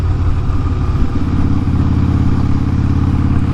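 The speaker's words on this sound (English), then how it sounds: "It is a Harley, so it is loud." A Harley-Davidson motorcycle with about 50,000 miles runs loud and close, its deep, lumpy engine rumble steady throughout, with a slight shift in pitch near the middle as the throttle changes.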